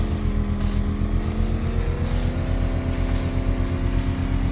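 Car engine running steadily in Batman: Arkham Knight, a loud continuous droning hum with a slight pitch rise partway through, alone without speech.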